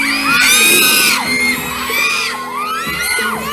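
A group of people yelling and whooping loudly together, with high excited shrieks and shouts rising and falling in several overlapping bursts close to the microphone.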